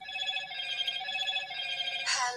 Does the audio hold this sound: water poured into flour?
no